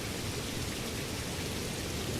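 Steady, dense rainfall in the video game Skyrim, a loud unbroken hiss of rain with no voices over it.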